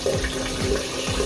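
Water drains from a hot water tank system in a steady, close gurgling gush with rhythmic pulses, heard alone.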